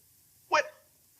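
A pug gives one short, sharp bark close by, a single yelp that trails off quickly against a quiet room.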